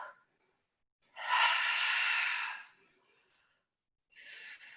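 Steady breaths during a Pilates sculpt workout: a short exhale, then a long, strong breathy outflow of about a second and a half, a pause, and another breath beginning, close and clear with no talk.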